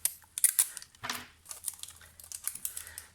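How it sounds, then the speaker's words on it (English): Low tack washi tape being pulled and pressed down while crafting, with crisp ticks, a rasping tear and soft crinkly rustles, close and moderately loud, with no talking. "I am going to secure it with some low tack washi tape"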